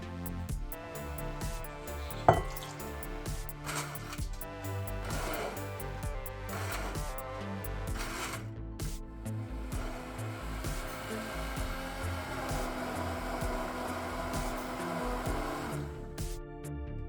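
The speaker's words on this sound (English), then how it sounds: "puree the strawberries with the lemon juice" An electric blender whirs as it purees strawberries with lemon juice and milk, a steady close motor drone with shifting pitch and a few clatters, running throughout with no talking.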